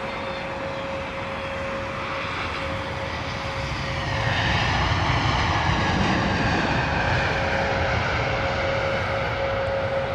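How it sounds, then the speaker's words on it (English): A British Airways Airbus A321neo landing with reverse thrust, a steady broad engine roar that swells partway through and holds, moderately distant and fairly subdued, with no voices. "Pretty quiet there from the A321neo, pretty quiet on the reverse thrust"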